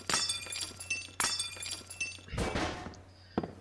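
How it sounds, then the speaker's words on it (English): In the game Estranged, glass is knocked out of a window frame. A few sharp shattering bursts come first, then a longer crash of breaking shards. "Clear the glass out. Don't want to eviscerate myself climbing through."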